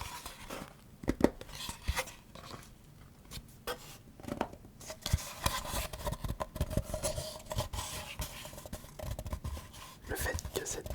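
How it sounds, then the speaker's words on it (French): A small, empty wooden box is handled up close, giving irregular hollow taps, scrapes and rubs that vary in loudness, with faint whispering. "Le fait que cette boîte soit vide donne ce son assez creux"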